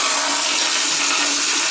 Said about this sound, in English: he's flushing the toilet